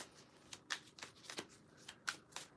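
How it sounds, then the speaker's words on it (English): Playing cards shuffled by hand, with a run of crisp riffling bursts, about six, coming in an uneven rhythm. Close and fairly quiet, with no talking. "Okay, I think them cards are shuffled."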